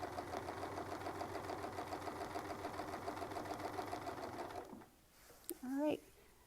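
Sewing machine stitching a quilting feather along a Westalee ruler, a fast steady needle rhythm for several seconds that then stops, followed by a few brief clicks, with someone speaking near the end.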